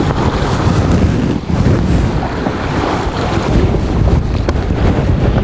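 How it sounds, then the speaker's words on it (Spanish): A sailboat under way in light wind, with steady loud wind buffeting the microphone and water washing against the hull continuously, no voices. "Tenemos poco viento y estamos navegando muy bien."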